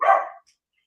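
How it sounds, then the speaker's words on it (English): A single close dog bark, short and loud, quickly fading to silence. "I got two dogs over here barking"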